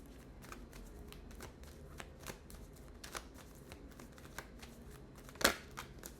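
Tarot cards being shuffled and drawn close up: a steady run of soft papery riffles and flicks, quiet and irregular, with one sharper snap near the end and no talk.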